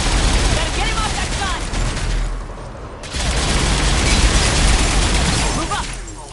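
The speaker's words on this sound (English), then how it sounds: "Enemy on the mounted gun. Gotta get him off that" Sustained automatic fire from a mounted gun in Mass Effect 3, loud and continuous with heavy booming impacts, pausing briefly midway before resuming amid battle noise and shouted voices.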